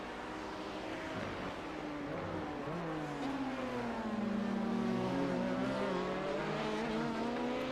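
Race car cornering at Laguna Seca in a racing video game, a continuous engine drone whose pitch dips and rises through the turn, steady and moderately loud, with faint tire scrub beneath.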